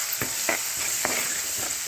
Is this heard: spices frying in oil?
yes